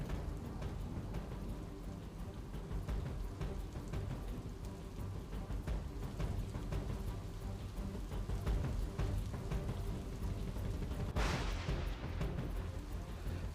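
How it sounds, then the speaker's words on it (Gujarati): Heavy overnight downpour in Sagbara, Narmada district, Gujarat, during flooding: a dense, unbroken roar of rain pounding surfaces, with a sudden loud crack near the end, and no voices. "અહીં મધ્યરાત્રિથી ધોધમાર વરસાદ પડતા ચારે કોર પાણી જ પાણી છે।"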